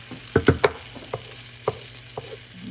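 Butter goes into a pan with sautéed onions pushed to one side, giving a few soft scrapes and stirring clunks over a low, steady sizzle, close and fairly quiet.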